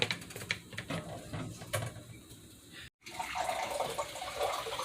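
Water runs from a tap while being fetched for cooking pinakbet, a soft steady rush with clicks and small knocks throughout, briefly cut off before resuming.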